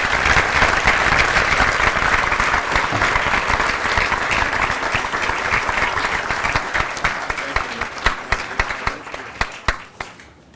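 A dinner audience at the Foreign Policy Association's annual event applauds John Hennessy, dense sustained clapping from a large crowd that holds steady for several seconds and then thins out into scattered claps as it fades.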